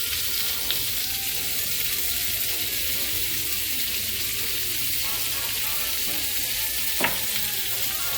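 Meat frying for gumbo, seasoned with black pepper and seasoning salt, sizzles steadily in a pan, a constant close crackle with a couple of brief clinks of stirring.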